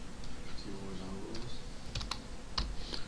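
Quick bursts of key clicks on a computer keyboard while Java code is typed. The clicks come in uneven clusters, fairly close, and a voice talks faintly underneath.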